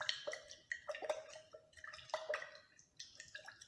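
Water poured and dripping into a salt sample during a qualitative analysis test, a series of faint, light splashes and drips that are irregular and sparse, heard close up in a quiet room.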